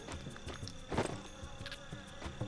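Bees guarding pine needles buzz in a mountain-climbing video game, a steady insect drone with passing flurries over layered game ambience and faint footsteps.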